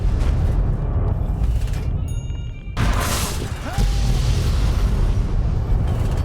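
Tiny Tots explosive blasts in Fallout: New Vegas, a loud, dense, rumbling barrage with crashing bursts that briefly drops out midway, then resumes as a sustained roar.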